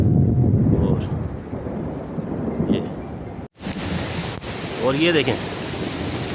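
A village thunderstorm brings deep rumbling thunder, steady pouring rain and gusting wind. The storm is loud and close, with someone speaking Hindi over the noise.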